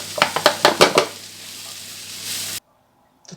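Food stirred in a pan of hot flavoured oil while cooking beef tomahawk and cannellini beans: a handful of quick scraping strokes over a steady close sizzle, which then cuts off abruptly.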